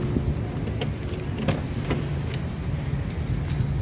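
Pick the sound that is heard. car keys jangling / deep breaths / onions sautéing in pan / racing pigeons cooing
car keys jangling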